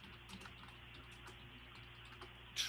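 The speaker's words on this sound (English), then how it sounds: "Sorry, I was typing in the chat." Computer keyboard typed at a podcast desk, a quick run of soft clicks at close range over low room hum, ending in a sharper tap.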